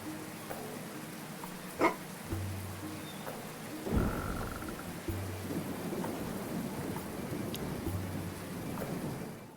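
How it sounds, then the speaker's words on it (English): Storm in the video game Dead in Vinland, with a steady hiss of rain and low rolling thunder rumbling through at intervals, fairly quiet overall. "Another storm."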